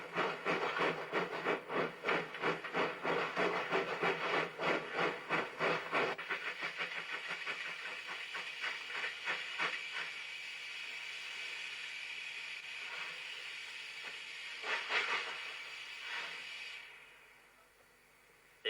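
A steam locomotive labouring up a steep 1 in 30 grade on tight curves, loud rhythmic exhaust beats and hiss close by, the chuffing pounding hard at first then easing into steadier steam noise before fading near the end.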